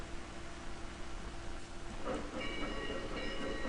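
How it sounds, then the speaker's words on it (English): A train rolls across desert terrain in the strategy game Strategic Command: European Theater, a steady rumbling rail noise that swells and brightens midway with faint metallic clatter, heard alone without voices. "By train in the desert."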